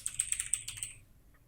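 Quick run of crisp key clicks from a computer keyboard, close and fairly quiet, lasting about a second before falling silent, with no talk.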